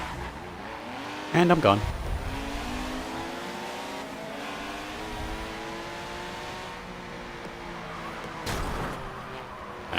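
A red race car's engine in Forza Motorsport 7 revs and accelerates with rising harmonic whine, mixed with game effects and a brief voice near the start.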